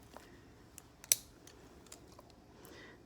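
A single crisp snip of nail clippers cutting the hooked tip of a dog's nail, close and brief, surrounded by a few faint clicks in a quiet room.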